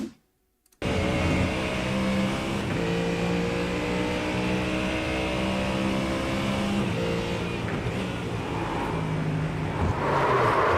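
A GT3 race car in the iRacing sim at Hockenheim brakes hard into a corner, its engine note loud and close and steady throughout after a brief silent gap at the start.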